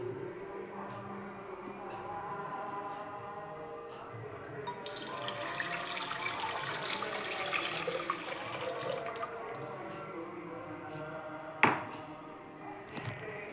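Cotton seed milk (paruthi paal) poured into a hot, heavy-bottomed pan, giving a steady splashing, sizzling wash that swells midway and lasts several seconds, with a sharp clank near the end.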